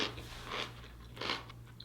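Homemade sauerkraut made from cabbage gets bitten and chewed, giving a few distinct, crisp crunches close to the mic. The bites come in spaced bursts over a quiet background hum.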